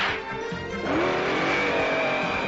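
The Spider Machine GP7 car from the Japanese Spiderman series drives past with a rising engine rev and a brief tire squeal, loud and close, with a motor note climbing in pitch over a couple of seconds.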